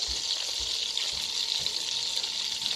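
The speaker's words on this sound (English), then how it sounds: "I am going to add another half a cup of butter" Butter for shrimp scampi melts in a pan with a continuous bright sizzle and crackle, close and steady, with a few soft low thumps and no talking.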